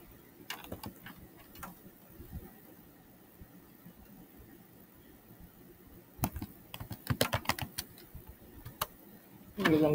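Keys clatter on a computer keyboard while PHP code is typed, with scattered soft taps early and a denser burst of quick, close clicks later, no voices.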